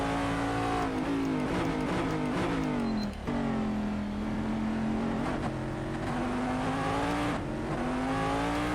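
A Corvette DP race car engine in Assetto Corsa at Red Bull Ring drones steadily with a loud, continuous tone that rises and dips through gear changes and throttle lifts, heard alone without talk.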